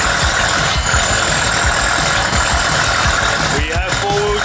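A VW Polo 6N2 converted to four-wheel drive with a Haldex controller revs its engine loudly and steadily while all four wheels spin, with a brief rising whine near the end and a voice speaking under the noise.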